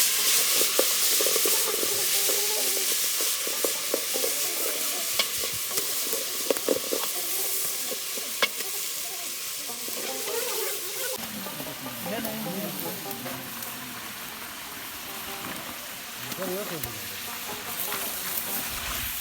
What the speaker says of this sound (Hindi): तो अभी हमने प्याज को ब्राउन के लिए यहाँ पर लगाए हुए हैं।